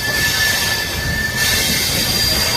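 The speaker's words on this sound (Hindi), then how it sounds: "और निकल गई अपनी ट्रेन वाराणसी जंक्शन से" The Marudhar Express with brand-new LHB coaches pulls out of Varanasi Junction, a loud, continuous rumble of wheels on rails with a high metallic squeal running through it, heard from aboard with no talking.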